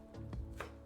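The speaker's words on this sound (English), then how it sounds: "you're going to make slices, not chops, slices" A knife slicing bunched vegetables thinly on a board for aloo beans curry, two or three quick, soft close cuts in under a second.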